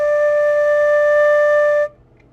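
A single sustained D note on an electronic keyboard, a clean steady tone held for almost two seconds before cutting off abruptly into near silence.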